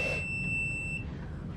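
A sauna timer gives a single steady electronic beep, a bright sustained tone lasting about a second over a low background hum, with no voices.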